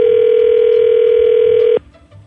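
On a morning radio show's phone call, a single steady ringback tone sounds loud and clear for nearly two seconds, then cuts off abruptly into quiet line noise.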